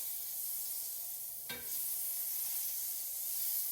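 Butter or margarine sizzles in a frying pan as French toast is prepared, a steady, fairly loud hiss with a brief sharp crackle near the middle and no talk.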